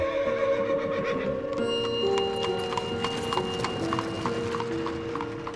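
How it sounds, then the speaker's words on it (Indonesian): Horse hooves of an andong carriage clip-clop at a steady walking rhythm, close and clear, over a layer of tonal background music. "Kerjaan si Kantil itu ya cuman keliling-keliling doang tuh, naik andong lengkap dengan kusirnya"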